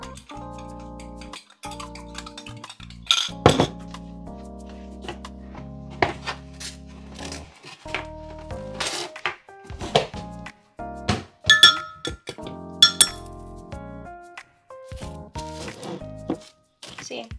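Ingredients for brioche dough being stirred in a bowl, with scattered clinks and light knocks of a utensil against the bowl in an irregular rhythm, close and fairly quiet, with soft music or talk in the background.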